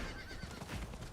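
A horse whinnies in Diablo 4, a broad, breathy neigh running through the whole short moment with faint hoof clip-clop beneath, fairly loud and steady with no talk.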